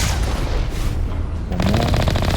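Gunfire in the Mass Effect video game, dense rapid shots forming a loud continuous rattle, shifting into a faster metallic burst toward the end.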